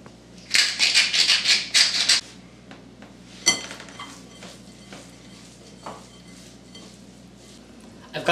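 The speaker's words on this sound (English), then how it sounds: "I'm going to toss my beef tenderloin with some salt and pepper and flour." Beef tenderloin being tossed with salt, pepper and flour in a kitchen: a quick burst of rattling, scraping stirs, then a sharp clatter and scattered faint clinks.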